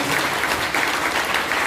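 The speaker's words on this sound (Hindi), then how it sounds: "एक बार सुखी राम वाला ताली हो जाए" Seminar audience clapping on request, a dense, steady wash of many hands throughout, loud and close, with no break in the applause.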